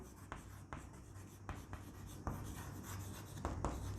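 Marker or chalk writing on a classroom board during a physics lesson on refraction, with steady scratchy strokes and several sharp taps at word breaks, close and clear with no talking.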